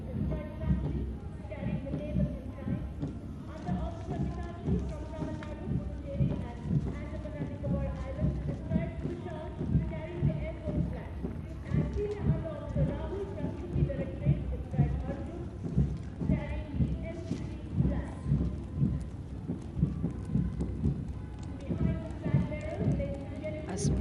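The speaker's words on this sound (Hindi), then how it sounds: "The mounted contingent of the National Cadet Corps." Hooves from the horses of the National Cadet Corps mounted contingent clip-clop in a steady marching rhythm at a New Delhi NCC rally, continuous and moderately near, with a commentator talking over them throughout.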